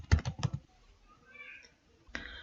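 A name is typed on a computer keyboard: a quick burst of close, crisp key clicks, a pause with faint background, then a couple more taps.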